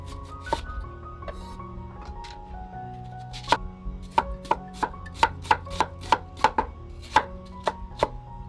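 A kitchen knife slices an onion into thin pieces on a cutting board, giving a run of crisp, close chops that start sparse and then quicken into a steady, even rhythm.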